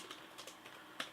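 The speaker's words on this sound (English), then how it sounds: "Well, I'm typing the message to him" Fingers typing a message on a computer keyboard, quiet, irregular key clicks close by with one sharper tap near the end.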